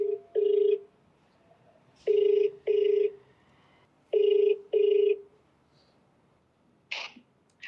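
Telephone ringback for an outgoing call, heard as paired tone bursts repeating three times with short pauses, clear and steady, followed by a brief noisy click near the end.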